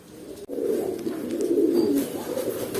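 Black American fantail pigeons cooing close by, a continuous low, throaty warble that swells and rolls on after a sharp click at the start.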